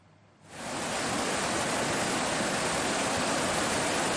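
Strong current of the Regoyo River in Lumajang, East Java, after a lahar flood, a dense, steady roaring rush of water that swells in after a quiet start and stays loud and unbroken.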